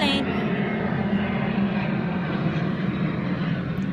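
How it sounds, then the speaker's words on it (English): A Southwest airliner passes overhead outdoors, its broad engine roar steady and loud throughout, with people's voices faintly mixed in. "That was a Southwest plane."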